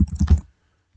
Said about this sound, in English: And this is what it's like when you're typing.